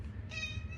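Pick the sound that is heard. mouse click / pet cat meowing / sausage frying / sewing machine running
pet cat meowing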